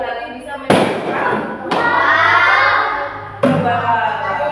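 An LPG gas explosion bursts out in sharp, loud blasts, three abrupt booms spread over a few seconds, each followed by a roaring, crackling wash of debris and fire noise.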